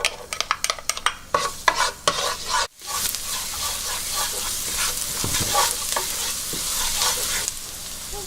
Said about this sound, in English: We're going to add in our garlic.